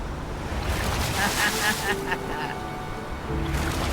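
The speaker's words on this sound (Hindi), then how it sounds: "वो लहरें काफी बड़ी लग रही हैं और वो हमारी तरफ ही आ रही हैं। ओके, ये आई बड़ी लहर।" Large ocean waves roll in toward an island's rocky shore, a steady broad wash of surf mixed with gusty wind noise, while people talk over it now and then.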